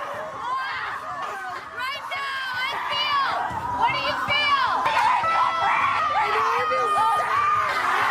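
Women at a rage ritual retreat in the woods scream and shout in an overlapping, loud, continuous group chorus with whoops and cries.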